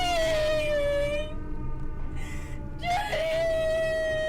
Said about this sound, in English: Why's she screaming?